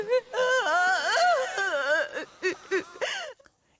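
A newborn baby wails in a film scene, with rising and falling cries that break into shorter sobbing bursts before trailing off.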